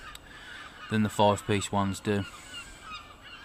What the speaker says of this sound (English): bleeding seagulls now